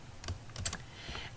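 Soft computer keyboard keystrokes tap out a shortcut in a few close, quiet clicks without any speech.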